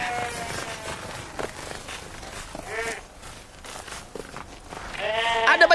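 Sheep bleat repeatedly in a flock, several wavering cries near and loud, the last ones stacked close together, with a voice briefly underneath.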